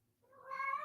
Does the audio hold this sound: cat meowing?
yes